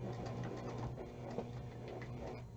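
A sewing machine stitches along a marked line in foundation paper piecing, giving a steady, close, continuous mechanical whir with a low tonal hum and no talking.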